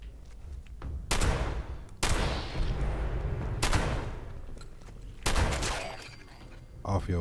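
Shotgun blasts from a video game boom out loud and close, several heavy shots spaced a second or so apart, with voices talking in between.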